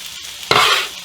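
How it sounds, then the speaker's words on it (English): Chopped shallots hit a hot pan and break into a sudden loud sizzle that holds steady, then eases slightly; quiet beforehand, no talking. "Okay, that's our shallots are going."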